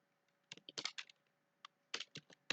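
Keys on a computer keyboard tap in scattered short clusters with quiet gaps between them, close and crisp in an otherwise silent room.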